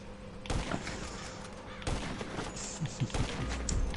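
Sniper rifle gunfire in the video game GTA 5 Online: three loud, sharp shots spaced about a second and a half apart, each followed by a rumbling tail, over a dense, busy game backdrop.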